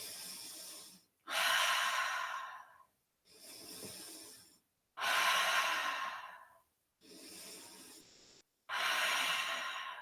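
Deep yoga breaths during a Warrior 2 class, heard up close as six airy inhales and exhales in steady alternation, each lasting one to two seconds with short silent pauses between them and no talking.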